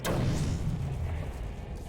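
An explosive detonation in Batman: Arkham City, a single heavy boom with a deep low-end thud that hits hard at once, then rolls on in a rumbling decay.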